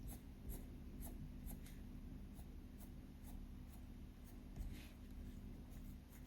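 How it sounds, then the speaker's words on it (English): Faint scratching of a very sharp dark green colored pencil drawing short grass strands on paper, a quick series of light strokes repeating in an even rhythm, close and quiet, with no talking. "Very sharp pencil so you can get nice, sharp strands of grass."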